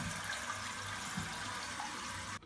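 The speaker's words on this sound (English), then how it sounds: "now we've adjusted the flapper float down so it stays up longer and will allow the toilet to flush completely" A toilet, its flapper float just adjusted lower, flushes and drains in a steady rushing wash of water that stops abruptly near the end; no voices.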